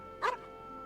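A single short, yappy dog bark pops out once in the video game Genshin Impact, brief and moderately loud over a quiet game background.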